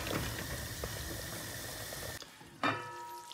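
Oxtail stew with beans and gravy simmers in a pot, a steady bubbling and hissing that suddenly drops away to quiet, followed by a brief clink.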